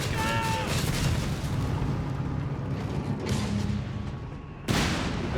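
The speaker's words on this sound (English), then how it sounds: "We've got those mortars thumping away here." Mortars fire in the Company of Heroes 3 battle game, heavy booming thumps over a dense, rumbling wartime soundscape of distant gunfire and explosions, with one sharp loud blast near the end.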